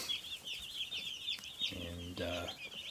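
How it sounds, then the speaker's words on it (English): Constant high-pitched peeping from a large crowd of 155 Cornish Cross chicks in a brooder fills the space, with a short, louder call from one chick in the middle. A low voice murmurs faintly underneath. "Cornish Cross chicks"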